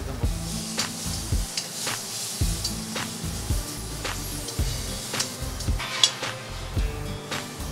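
Pre-boiled chicken fries in a pan of masala with pepper powder, sizzling steadily while a utensil repeatedly scrapes and clinks against the pan in an uneven stirring rhythm.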